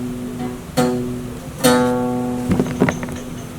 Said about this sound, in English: if just one fret is like off level or is not like level correctly, it will give you like a buzzing sound